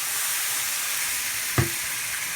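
A sauce of brown sugar, flour, yellow mustard and apple cider vinegar is stirred in a hot pan, giving a steady sizzling hiss with a single brief scrape or knock partway through.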